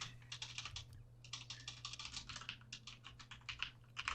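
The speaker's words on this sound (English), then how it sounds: "Whoever's typing, mute." Rapid computer keyboard typing, a steady stream of light clicks with a brief pause, heard close and fairly faint on an open mic during an online roleplay session.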